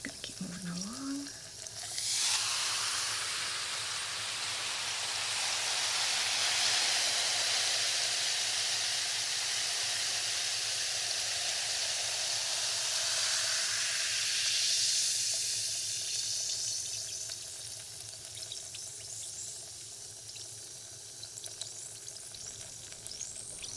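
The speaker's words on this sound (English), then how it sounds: "you can probably still hear that fizzing, right?" Steady, loud fizzing sizzle in an ASMR treatment, a dense crackling hiss that swells and holds for most of the stretch before easing slightly toward the end, with no talking.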